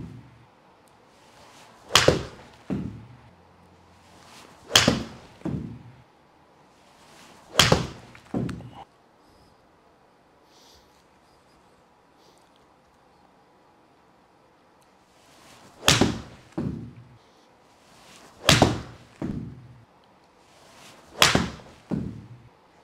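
Golf balls struck with a pitching wedge in a hitting bay, comparing Seed SD-01 and Pro V1 balls: six crisp, sharp clicks of clean contact, each followed by a softer thud, spaced a few seconds apart with a long quiet pause midway.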